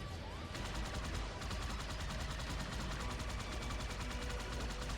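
Rapid, continuous automatic gunfire from enemies in Halo 2, dense repeated shots over a heavy rumbling background, loud and unbroken throughout.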